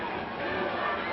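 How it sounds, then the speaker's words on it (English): Dense wrestling arena crowd roaring and chanting during a match between the Cuban Assassin and Tom Prichard, a steady wall of massed voices close and loud throughout. "you should be here to just feel this crowd. They're shouting USA"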